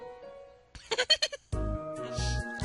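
A goat character in the video game Undertale lets out a short run of five or six loud, wavering bleats, followed by a steady game music tone with low thumps.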